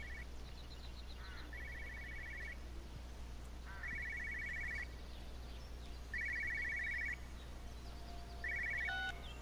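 A telephone ringing in the video game Everybody's Gone to the Rapture, a trilling electronic ring in four spaced bursts roughly two and a half seconds apart, heard over a low steady hum.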